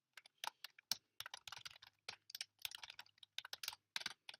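Fast, uneven typing on a computer keyboard, a dense run of crisp key clicks with brief pauses, close and clear with no voices.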